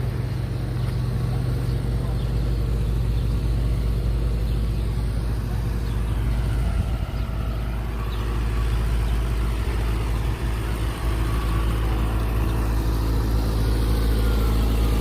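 A truck engine idles with a steady low rumble on a hot New York City street along Fifth Avenue's Museum Mile, continuous throughout amid street ambience and passing voices.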